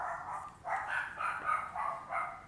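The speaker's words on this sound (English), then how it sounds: "oh, there goes my dogs" Dogs bark in a quick run of about five yips and barks, evenly spaced and fairly close, each one short and sharp against a quiet room.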